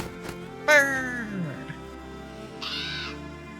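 A crow caws in a video game: one loud, harsh call that drops in pitch, then a second, shorter call over a steady ambient game background.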